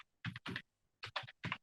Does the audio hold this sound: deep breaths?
no